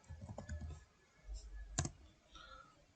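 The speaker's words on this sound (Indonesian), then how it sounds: "Kita bisa pertama tekan enter, kemudian ketikkan perintah" A command being typed on a computer keyboard to configure a Cisco switch, heard as a few scattered, quiet key clicks with one sharper keystroke partway through and no talking.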